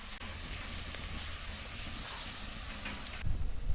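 Ground beef chili browning in a skillet over a very hot fire pit, giving a steady, loud sizzle and hiss that runs unbroken, ending in a few heavier bumps from stirring.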